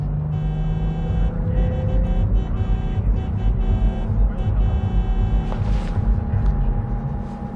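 A car driving in the game Cyberpunk 2077, a steady loud engine drone and road rumble close up, with a few brief clunks and whooshes over it.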